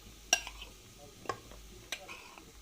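Spoon stirring flour into oil in a pan for béchamel sauce, a few light clinks and scrapes spaced out over a faint background hiss.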